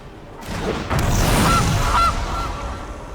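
A game goose honks twice in MTG Arena, loud and close, over a deep booming card-play effect and a bright shimmer. No voices.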